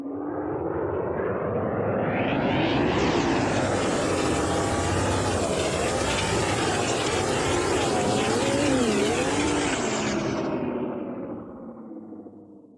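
A car engine in a video game heard from outside the vehicle, a loud revving drone that climbs in pitch, wavers up and down as it holds, then cuts off abruptly near the end.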